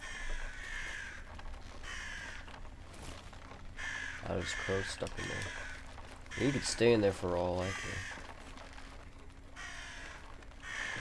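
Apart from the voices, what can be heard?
crows cawing in video game Atomfall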